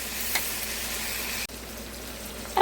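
Sausage frying in a pan on a stove at medium heat, a steady soft sizzle with a brief clatter at the end.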